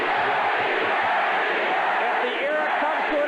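A raucous crowd fills a Las Vegas arena during a kickboxing fight, roaring and cheering in a dense, continuous wall of noise with shouts rising out of it.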